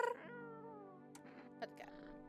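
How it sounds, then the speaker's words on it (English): A cat meowing in a long drawn-out, wavering cry, faint and sustained, with brief scuffing noises near the end. "Pet the cat."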